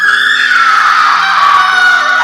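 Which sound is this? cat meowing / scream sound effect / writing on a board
scream sound effect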